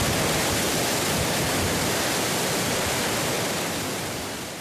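Rushing brine outflow from a seawater reverse-osmosis desalination plant, a steady loud broadband roar like a waterfall that holds constant throughout, close and continuous with no voices.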